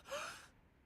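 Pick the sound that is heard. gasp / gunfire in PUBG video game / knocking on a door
gasp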